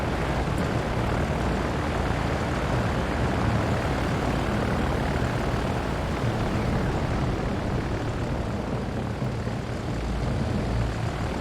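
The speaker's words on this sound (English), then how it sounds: "those dive bombers are just absolutely terrible" A World War II dive bomber in a Pacific naval combat video game drones with a continuous, dense propeller-engine roar that holds at a steady, loud level without pause.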